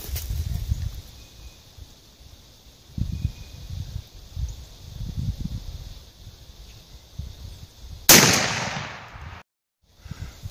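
A shotgun loaded with a Kent Ultimate Diamond 2 3/4 inch shell of 1 5/8 oz number 6 turkey shot fires once, a single loud sharp blast near the end that cuts off abruptly, after quiet outdoor rustling.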